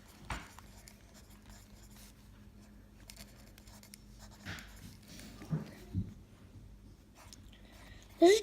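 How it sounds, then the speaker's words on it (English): A pen scratches faintly on paper while a child writes out a math formula, soft short strokes in a quiet room, broken by a few louder taps near the end. "So first we're going to write down the cosine law."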